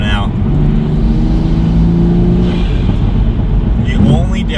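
Toyota Supra engine in sport mode holding a steady, loud drone with rising tonal harmonics, a brief lift-off pop near the end, and a person talking over it.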